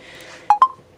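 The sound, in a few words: phone charging ding beeps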